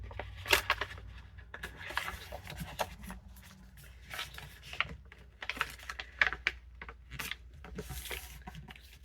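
Paper being folded and creased for a vintage Christmas junk journal, soft rustles and scattered taps and rubs at close range, irregular and fairly quiet against a low background hum.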